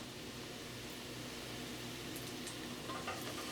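A soft, steady sizzle of mushrooms cooking in hot olive oil in a pot, faint and even with a continuous hiss throughout.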